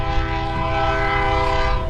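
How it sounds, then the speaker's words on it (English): A train passes in Canada, a loud sustained rumble with a steady, droning horn-like tone held throughout, close and continuous with no voices over it. "There's a train."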